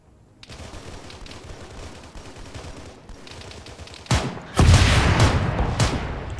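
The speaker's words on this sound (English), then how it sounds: "Whiff a rocket over their heads." A rocket fired over enemies' heads in a video game: steady gunfire crackles, then a sudden heavy launch and a louder booming blast that rumbles on, close and forceful, with no voices.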